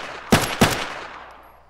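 Two sharp gunshots about a third of a second apart from a gun in Arma 3 with the Ravage mod on Evergreen Island. Each is loud and close, and the echo trails off afterward.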